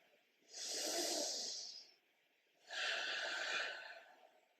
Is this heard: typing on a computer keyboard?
no